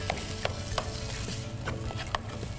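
Minced meat is stirred and fried in a pan, with a steady sizzle underneath and sharp scraping clicks of the spoon against the pan at intervals across the short stretch.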